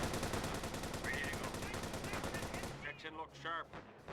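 Machine gun fire in the WWI strategy game Remembrance Day, set in 1918 trenches: rapid, steady bursts of automatic shots fill most of the clip, then thin out to scattered distant reports.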